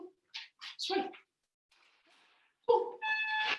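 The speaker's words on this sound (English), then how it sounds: "I apologise, my dog is whinging." A dog whines indoors in short, high, nasal whimpers and yips, several close bursts separated by quiet gaps, ending in a longer tonal whine.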